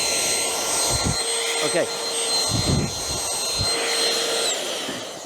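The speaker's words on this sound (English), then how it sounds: "that is a powerful pump" A portable electric air pump inflating a queen-size air mattress runs with a loud, steady whooshing drone for the whole time, while someone talks briefly over it.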